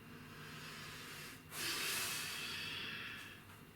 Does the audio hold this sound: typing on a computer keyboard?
no